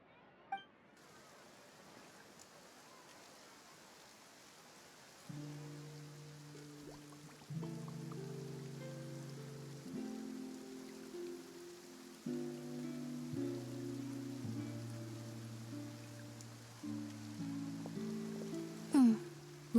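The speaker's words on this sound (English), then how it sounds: "Looks like rain." Rain falls in Fontaine in the video game Genshin Impact, a soft, even patter under a quiet in-game music bed that enters partway through and carries on as the rain continues.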